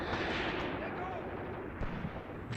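Machine guns fire in the video game Graviteam Tactics: Mius Front as a dense, continuous rattle of distant shots and battlefield rumble, with a few sharper bursts standing out.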